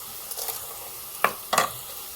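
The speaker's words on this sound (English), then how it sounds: "and then you chop" A knife chops kale leaves on a board, two crisp sharp strikes in quick succession after a few softer rustles, close and clear.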